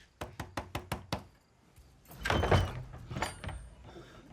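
Six sharp knocks on a door at night land in quick even succession, followed by a louder, longer rumbling thud and shuffling, with a few faint crashes trailing off.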